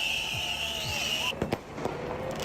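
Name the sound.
firecrackers thrown by protesters in London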